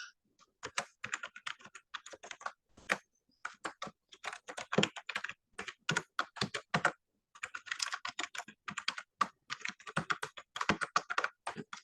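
Steady, rapid typing of C code for a rectangle perimeter program on a computer keyboard, with close, crisp key clicks in bursts broken by short pauses and no talking.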